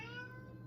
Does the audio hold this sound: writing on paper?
no